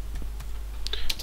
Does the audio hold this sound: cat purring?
no